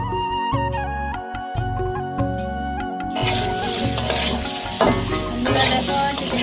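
Chicken being stirred and fried in a pan in a home kitchen, a steady sizzle with scraping stir strokes beneath music that continues throughout.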